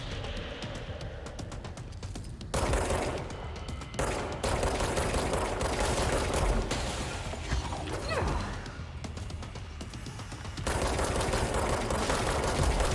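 Sustained gunfire from the video game Control, dense rapid shots layered with game effects and thumps, loud and continuous for the whole stretch.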